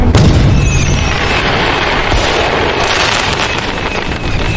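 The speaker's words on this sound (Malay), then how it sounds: "Woi, siapa yang main letupkan lampu tadi?" Loud explosive blast from a lamp being blown up amid a fireworks battle, a dense booming roar that starts sharply and rumbles on steadily for several seconds.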